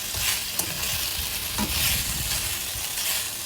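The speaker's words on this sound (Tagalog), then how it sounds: "So, ito yung stir fry natin ang ating beef" Marinated beef stir-fries in a hot pan, with loud, steady sizzling and the scrape and clatter of a utensil stirring the meat, close up and without talk.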